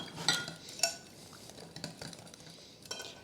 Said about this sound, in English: Mix in a half cup or 60 grams of shredded mozzarella cheese